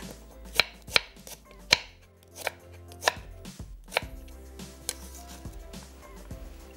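A knife chops a medium onion on a board in a home kitchen, a series of crisp, irregular knocks close by, about eight distinct strikes spaced unevenly, with no talk over them.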